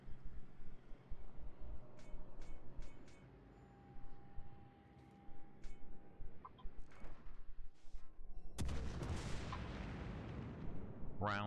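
Heavy naval guns booming in World of Warships as Graf Spee cruisers trade salvos, a few scattered distant thuds early on and then a loud, sustained roar of close gunfire near the end.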